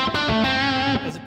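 A single note on a distorted electric guitar, the A string plucked with the thumb rather than a pick, gives a quick popping attack and then a short buzzing sustain that cuts off after about a second.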